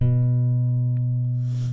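A single plucked guitar note on the A string at the second fret rings out clearly and sustains steadily, fading slightly as it decays, with no talking.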